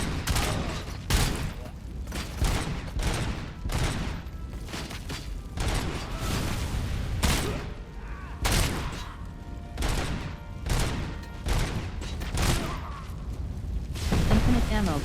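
Rapid video game gunfire from a weapon with infinite ammunition, repeated heavy bursts and booms spread across the clip, with a person talking over and between them.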